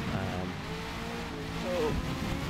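A race car in Forza Motorsport accelerates with a rising engine note, heard from onboard over a continuous roar and a brief squeal, at a fairly loud and steady level.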